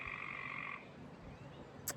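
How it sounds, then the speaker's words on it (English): Frogs croak in a swampy backyard pool on a suburban homestead, a dense sustained chorus that fades out partway through, leaving a low murmur and one brief sharp sound near the end. "the frogs are in there now. It's a swamp."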